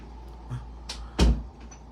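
A door being closed: a couple of light knocks followed by one louder, solid thump, close by, with quiet room tone around it.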